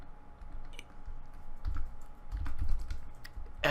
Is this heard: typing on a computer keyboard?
yes